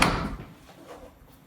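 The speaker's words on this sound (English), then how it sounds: "Now, I don't think I opened this door." Pantry door in a new construction townhome opening with a single sharp close knock or thud at the start, then fading into quiet room tone.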